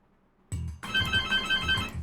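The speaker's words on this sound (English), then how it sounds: "Oh, I'm getting a phone call." A house phone rings in a hololive fangame, a repeating electronic ringtone that cuts in after a brief bump and keeps trilling at a steady pulse, loud and close.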